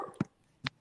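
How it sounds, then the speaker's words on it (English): A dog gives two short, soft whimpers a moment apart, close by and otherwise quiet. "The dog."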